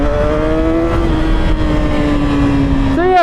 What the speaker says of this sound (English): So let me shift down into gear 1. We'll pull it back up to 60 because I have to be legal.